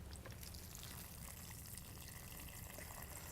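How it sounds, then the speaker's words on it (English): Water drains and trickles out of the bottom of grassed and no-till soil samples during a demonstration, a constant soft gushing and splashing that runs evenly throughout without talk. "you can see a lot of water coming out of the bottom here"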